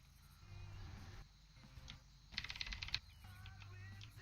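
Rapid, hard keyboard hammering during World of Warcraft play, a dense close clatter of keys in quick bursts with a louder flurry near the middle, faint game sound underneath.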